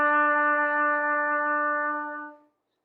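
One long, steady trumpet tone on the note E, using first and second valves, holds evenly for over two seconds and then fades out, solo and close.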